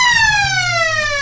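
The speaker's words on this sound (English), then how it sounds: "the siren has sounded for half time here" The half-time siren at an Australian rules football match between East Point and Darley blares as one loud, sustained tone that slowly falls in pitch, with low crowd noise beneath it.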